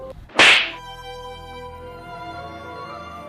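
A single sharp slap to the face cracks out loud and close, followed by a sustained musical drone with no talking.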